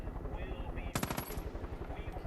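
A quick automatic burst of gunfire in Far Cry 5, roughly five or six sharp rapid shots in under half a second, loud and close, against quieter background rumble.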